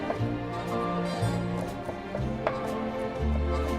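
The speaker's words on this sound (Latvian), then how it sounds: "Sākam ar to, ka sakapāsim ķiplokus" Garlic being chopped with a knife on a cutting board for mussels in garlic sauce, a rapid run of close, crisp knife taps, steady and fairly loud, with no talking.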